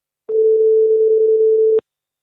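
A single telephone ring-back tone heard while placing a call, one steady continuous beep lasting about a second and a half, clear and alone with no talk.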